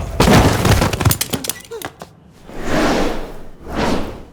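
Gunfire erupts in a tense Hindi crime-film confrontation, a burst of loud, sharp cracks and thuds packed into the first seconds, followed by swelling whooshes of noise, with voices in the scene.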